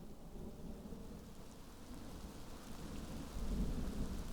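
Steady heavy rain with a deep thunder rumble rolling underneath, swelling louder near the end; a continuous stormy night soundscape with no voices.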